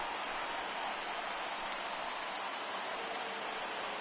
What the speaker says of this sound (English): the conditions aren't ideal with the rain coming down